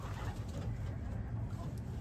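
Pigeons coo steadily in a loft, low throaty calls overlapping in a continuous murmur close by, with no voices.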